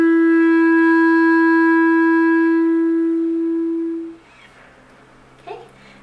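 A clarinet holds a sustained F sharp for about four seconds, clear and close with a strong steady tone, then cuts off into quiet room noise with a brief faint sound near the end.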